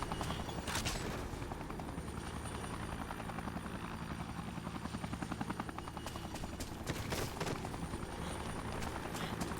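A helicopter in the video game Dead Rising whirs with a steady rotor thump that fills the scene for several seconds, loud and continuous, with occasional sharper cracks over it and no talking.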